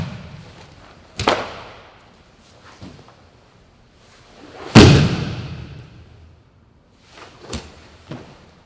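Jiu-Jitsu punch defense drill ending in a hip throw takedown: a sharp impact near 1.2 s, then a heavy, booming thud of a body hitting the mat around 4.7 s, followed by a few lighter footstep-like bumps, no talk.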